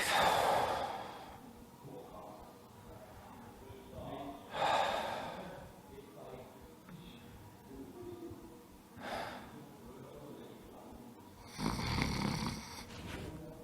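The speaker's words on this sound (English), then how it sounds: "and breathe." During a home fitness class relaxation exercise, slow breaths come in and out, spaced several seconds apart, each a soft, airy exhale or inhale close to the microphone, with quiet room noise between them.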